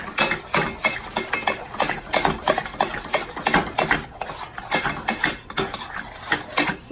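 A spoon scrapes and clanks rhythmically against a cast iron pan while almond puff dough is stirred, a fast, steady run of close metallic strokes with no voices.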